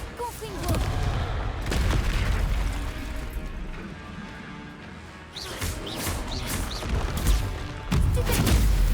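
Blasts from the Confringo fire spell in Hogwarts Legacy, a string of sharp bursting explosions mixed with game effects, with loud crashing hits near the start and again in the last seconds.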